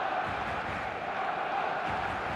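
A match day football crowd roars as a dense, steady wash of massed voices, loud and continuous without a break.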